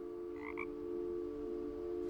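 Frog croaking in the game What Remains of Edith Finch: a couple of short paired croaks stand out early over a steady droning background tone, with no talk.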